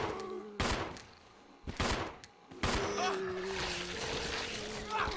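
Three loud bursts of gunfire from a gun in the GameCube game Resident Evil Zero, each a sharp crack with a trailing rumble, spaced about a second apart, followed by a noisy in-game tail.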